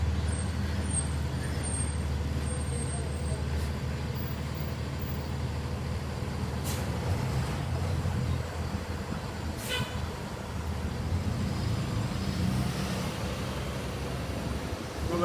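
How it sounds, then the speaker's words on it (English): A truck drives by outdoors, its engine a steady low rumble and broad road noise lasting throughout at fairly loud level, with a couple of brief higher squeals or hiss partway through. "Let this truck go by."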